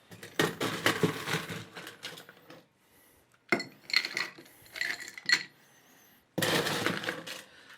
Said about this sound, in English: Let's put lots of ice in there.